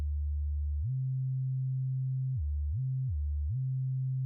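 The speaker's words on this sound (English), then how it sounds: "when you go from note to note, still holding the first note down, when you go to the next, you just hear glide" Pure sine-like synth tone from Ableton Live's Operator, sliding smoothly up from a low note and then gliding down and back up between two pitches in a legato pattern, steady and clean with no talk.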